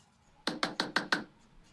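Five quick, evenly spaced knocks land on a door in a Christmas Carol scene, sharp and fairly close against a quiet room.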